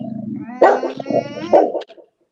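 A feisty dog at an indoor Christmas party barks and whines close by, with a growly, yelping series of loud calls that trails off into quiet.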